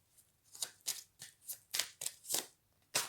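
Tarot cards being shuffled by hand, a run of quick crisp riffling bursts close up, about nine in three seconds, soft and intimate with no talk.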